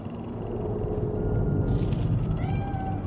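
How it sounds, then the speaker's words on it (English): A cat meows in a video game set in Night City, a drawn-out cry over a steady rumbling ambient bed, ending in a higher, rising whine. "Do you see it? The cat."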